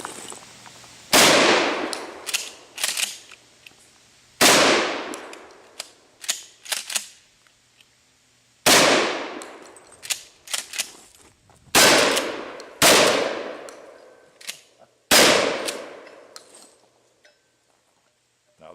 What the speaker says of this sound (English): Actually, it's a shotgun, a Mossberg 500.